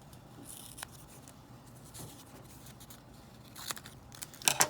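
Scissors snip through brown paper, cutting it into fourths, with faint, sparse cuts early and sharper, louder crunchy snips clustering toward the end.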